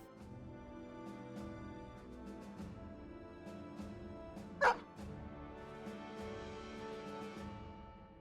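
A war dog in the video game Battle Brothers gives a single sharp bark amid low, faint background music and game sounds.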